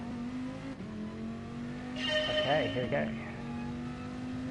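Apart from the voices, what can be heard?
car driving in video game GT Sport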